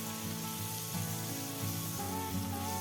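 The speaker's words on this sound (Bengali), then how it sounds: "নুন আর হলুদ আলুর মধ্যে দিয়ে খুব ভালো করে নেড়ে চেড়ে মিশিয়ে নিয়ে আলুগুলোকে একটু হালকা করে ভেজে নেব" Potato pieces coated with salt and turmeric fry in oil, giving a steady, close sizzle that runs continuously with faint stirring scrapes and no voices.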